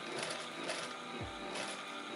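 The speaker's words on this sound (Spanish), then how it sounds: "Seguimos cosiendo hasta llegar aquí al otro extremo." A sewing machine stitches fabric along a curve as a steady, even mechanical whir that runs unbroken throughout, with one short low thump partway through and no voices.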